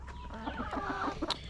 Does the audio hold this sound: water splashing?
no